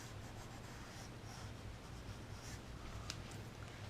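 Pencil drawing on paper in an art journal sketch, a faint continuous scratchy graphite rub with small stroke bursts, close and quiet over a low steady hum.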